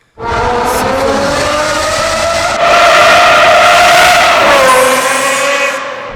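A manual Aston Martin V12 roars loud and close, holding a sustained high-pitched wail that climbs and swells midway, then eases off and drops away near the end.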